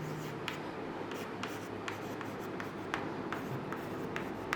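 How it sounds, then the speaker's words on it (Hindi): Marker or chalk writing on a board during a chemistry lesson, faint scratchy strokes with repeated short taps at irregular intervals over quiet room tone. "तो हम सिंपल में लिख देते हैं यहाँ पर"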